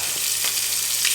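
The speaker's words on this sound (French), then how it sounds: "On va mélanger et faire légèrement dorer l'ail et l'oignon." Garlic and onion sizzle steadily in a hot pan, a continuous close frying hiss broken by soft scraping from stirring, with no voices.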